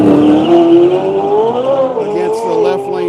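A Corvette race car launches at a drag strip at Quaker City during a drag racing event, its engine loud and close with a steady rising roar that climbs in pitch over a few seconds and continues throughout.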